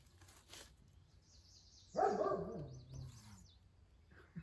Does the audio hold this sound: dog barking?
yes